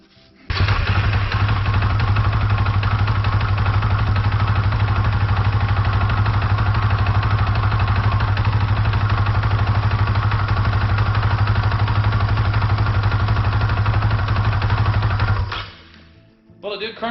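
Dirt bike engine cranks and catches, then runs steadily and loudly up close for about fifteen seconds with a constant low drone and upper mechanical clatter before cutting off abruptly.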